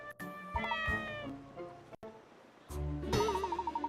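A cartoonish cat meows in the Layton's Mystery Journey video game, several clear, sing-song mews with wavering pitch, separated by a short gap, with the last ending in a trembling, warbling cry.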